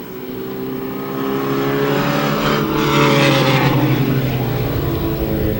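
Stock race cars roar around Airborne Speedway in Plattsburgh, NY, several engines close together in a sustained, loud drone that swells slightly as the pack nears, with no talk over it.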